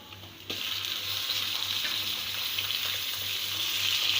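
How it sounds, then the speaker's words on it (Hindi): Beef drops into a pan of onions already fried golden, and a loud, continuous sizzle erupts at once. It stays dense and steady, close up, with no talking. "अब हम इसमें गोश्त डाल देंगे।"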